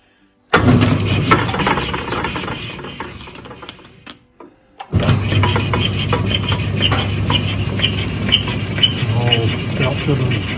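A generator raw water pump shaft is rubbed clean and polished with steady abrasive rasping. It pauses briefly midway, then resumes loud and close.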